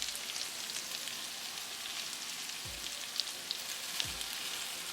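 Taro root pieces coated in masala fry quietly in a pan as they are turned, a faint soft sizzle with a few light clicks and scrapes.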